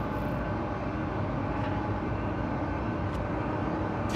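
A Star Citizen spaceship takes off from a mining facility with a steady, loud, droning engine roar that holds even throughout, joined by faint brief high hisses and no voices.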